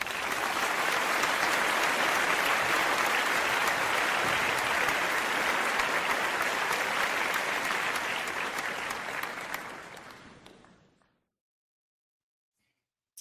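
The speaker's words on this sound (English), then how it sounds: "Let's give applause" A crowd applauding with sustained, dense clapping for about ten seconds, steady and loud before tapering off into silence.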